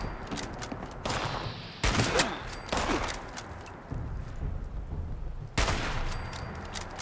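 Gunfire from a hunting rifle in the video game Fallout 76, several sharp, loud shots in an irregular series with quieter gaps in between and no talking.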